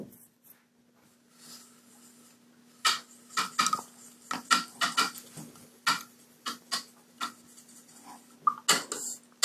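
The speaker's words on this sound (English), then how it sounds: "So I'm going to put the lid back on there and save that." Lid pressed back onto a small paint container during an acrylic painting session: a run of light plastic clicks, taps and snaps close by, irregular and fairly faint, over a quiet room with a low steady hum.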